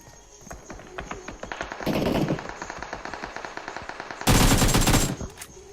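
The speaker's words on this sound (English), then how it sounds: "They're just shooting at teams pulling in." Rapid automatic gunfire rattles in a shooter video game scrim, with dense bursts of repeated shots and a louder, harsher burst near the end.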